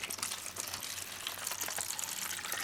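A cup of water pours into a seed starting tray with a steady, close splashing gush that runs without a break.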